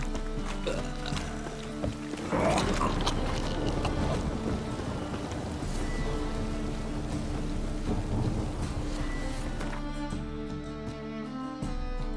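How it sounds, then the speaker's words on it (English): A thunderstorm in The Witcher 3 rolls with a deep rumble of thunder over steady heavy rain, loud and continuous, with a swell of thunder early on and under a musical score, without any speech. "A storm, damn it."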